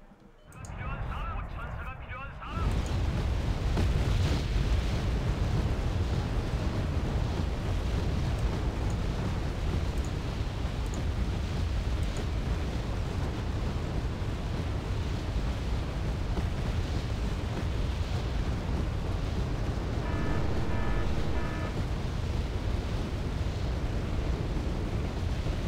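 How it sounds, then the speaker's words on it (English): Anti-aircraft fire in the video game Wargame: Red Dragon: a dense, continuous roar of distant gunfire and rumbling explosions that carries on steadily after a quieter opening, with faint sharper tones near the end. "A lot of AA fire coming from there."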